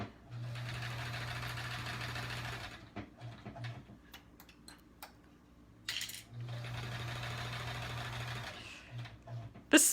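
A smooth-running sewing machine stitches rows of a Triangle Tango quilt in two steady whirring bursts of a few seconds each, separated by a pause filled with light clicks and handling sounds.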